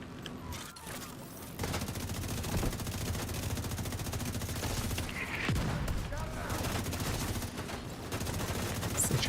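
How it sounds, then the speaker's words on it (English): Autocannon in a combat video game firing continuous rapid rounds under battle noise and radio chatter, a dense steady barrage at moderate loudness with people talking over it. "The autocannon seems to be firing blind."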